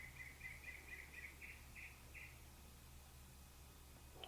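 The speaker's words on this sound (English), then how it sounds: "Bird." A small bird gives a string of thin, repeated chirps that fade out after a couple of seconds, faint and somewhat distant, inside a quiet Victorian mansion over steady background hum.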